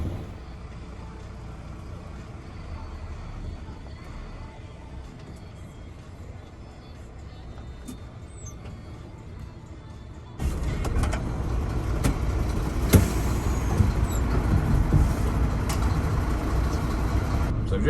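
A truck sits idling in a queue, then its engine swells louder as it pulls onto a weighbridge: a low, steady rumble that jumps in level partway through and stays close and loud, with no speech.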